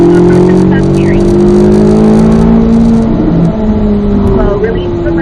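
A car accelerates around a race track with a loud, steady engine drone whose pitch climbs gradually, its tone wavering slightly toward the end, while a voice is heard over the engine.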